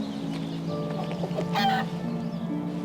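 Chicken clucking in the fantasy game King's Bounty II, a steady run of short fowl clucks with a brief louder squawk near the middle, over a constant low ambient game hum.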